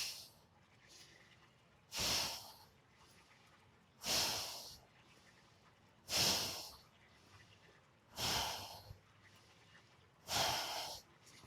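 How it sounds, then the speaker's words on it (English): Powerful rhythmic breaths pushed in and out through the nostrils during a Kundalini yoga practice, five forceful snorting exhales spaced about two seconds apart, close and clear in an otherwise quiet space. "Finding that rhythmic movement, the rhythmic breath, powerful breath in and out of the nostrils"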